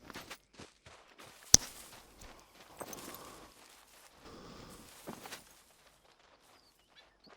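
Heavy hoofed footsteps of red deer in the Hunter Call of the Wild hunting game, a scattered series of soft thumps and stomps at mid distance with no talk, fading to quiet near the end.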